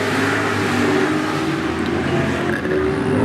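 Race cars at 105 Speedway charge hard through the turns in a short-track race, engines roaring loud and close in one steady, unbroken stream of revving that barely dips.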